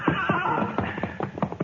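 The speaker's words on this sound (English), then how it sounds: "you take the gray horse, Jane" A gray horse whinnies in a 1952 Gunsmoke radio western, a loud, close, wavering neigh with a few clip-clop hoof sounds underneath and no talking.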